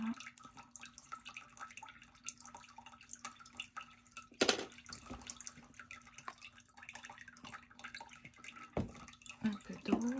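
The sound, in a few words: water being poured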